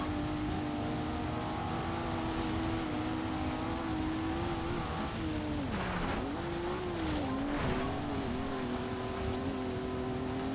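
Cars race in Forza Horizon 2 with a loud, steady engine drone that rises and dips through gear changes, with tire squeals and skids breaking through midway, continuous and close with no talking.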